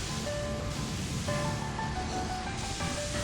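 Kirby sprays water from a fire hose onto flames in Kirby's Extra Epic Yarn, making a dense, continuous hissing rush with faint tonal game music threaded underneath.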